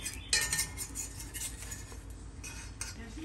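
A spoon or fork scraping across a non-stick pan while toasting an egg-in-a-basket, a few short metallic scrapes and clinks over a low background hum, close up with no talking.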